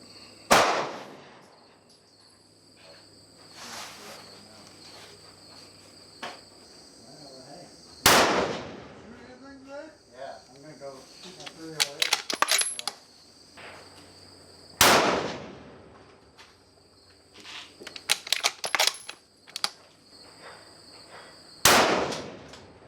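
Four loud, sharp rifle shots fired through an Area 419 Hellfire muzzle brake crack at regular intervals outdoors, each with a ringing tail, between faint ambient insect noise and bursts of metallic clicking.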